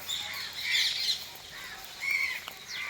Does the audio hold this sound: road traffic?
no